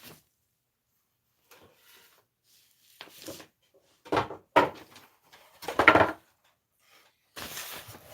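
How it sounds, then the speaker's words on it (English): Wooden drawers of a vintage furniture piece being pulled open and handled, a few scattered knocks and sliding scrapes close by, with quiet gaps between the bursts. "I'm going to open these drawers again"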